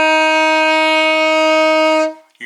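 A single sustained alto saxophone note C, steady and full-toned, held for about two seconds before cutting off, played alone.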